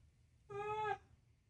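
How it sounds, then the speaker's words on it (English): An orange cat gives a single clear, drawn-out meow of about half a second. It sounds close and stands alone over a quiet background. "That is a very nice orange cat."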